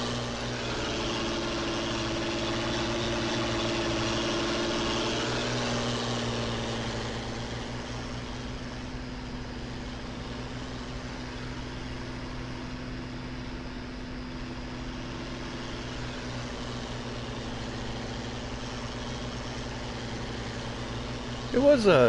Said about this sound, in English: I think it's mostly just this tractor it's pretty rowdy sounding